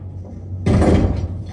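A door is forced open with a single sudden, loud thud and rattle that rings on briefly before fading, close by after a quiet hum.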